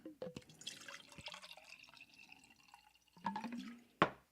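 Water poured into a container, a short run of close splashes and drips with a gurgling fill and a sharper splash near the end, alone without talk.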